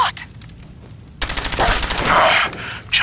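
A gunshot in the video game Fallout 4 lands after a quiet opening, then a burst of rapid, loud shots crackles for over a second before a sharp final report, with no voices.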